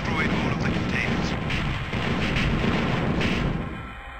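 Laser cannons repeatedly fire and blow apart containers in the Star Wars: TIE Fighter training mission, a string of booming blasts over a constant engine drone that fades out at the end.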